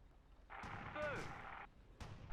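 A tank gun in the World War II strategy game Theatre of War fires with a deep, booming blast and a lingering rumble, followed by another thump shortly after, quiet overall with a voice speaking briefly.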